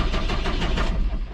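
A John Deere tractor engine turns over loudly and roughly, sputtering and stuttering in uneven pulses without catching, heard up close and alone.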